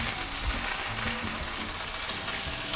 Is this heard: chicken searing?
yes